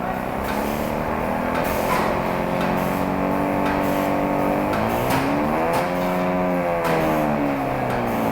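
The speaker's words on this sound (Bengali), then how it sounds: "দেখেন আমাদের মোটরটা কিন্তু ঘুরতেছে" An electric motor spins steadily under an M Drive 900 variable frequency drive, a loud continuous whirring hum whose pitch glides slightly up and down as the speed shifts.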